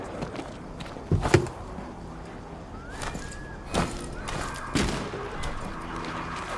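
Gunfire in the zombie shooter No More Room in Hell 2: a few sharp shots spaced irregularly over steady background game noise, with footsteps and faint voices underneath.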